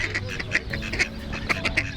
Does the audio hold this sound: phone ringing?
no